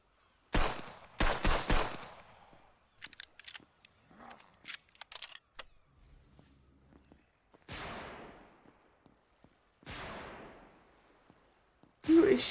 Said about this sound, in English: Who is shooting in from where?